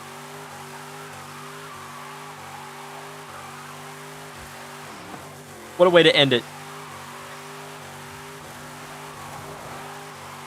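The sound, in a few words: Mustang car engine in video game Forza Horizon 5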